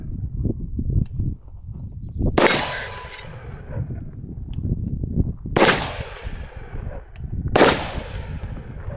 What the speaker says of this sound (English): We're gonna get some redemption shots.